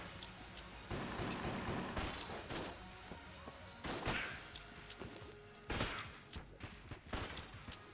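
Rapid bursts of gunfire from a weapon in the video game Enter the Gungeon, dense crackling volleys that come in repeated waves with short gaps, loud and close with game effects layered underneath.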